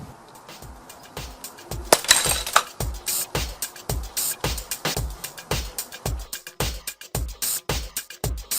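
Glass bottles crack and pop as their bottoms break out, sounding as a rapid string of sharp, fairly loud clinks and snaps with a brief cluster of shattering glass early on.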